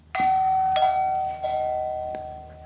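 An indoor Wyze Video Doorbell Pro chime rings in a room: several bright bell tones strike one after another and ring out, loud and near, with no talk.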